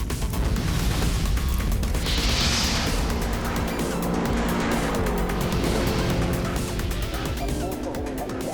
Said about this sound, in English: As the cars take to the track and we prepare for race 3